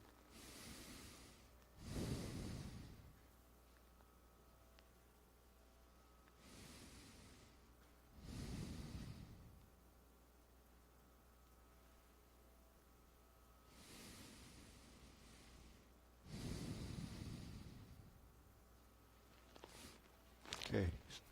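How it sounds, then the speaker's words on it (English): Slow, deep breaths during Tai Chi practice, four long airy inhale-exhale swells spaced several seconds apart with quiet pauses between, close to the microphone, ending in a couple of quick sharper breaths. "Okay, deep breathing."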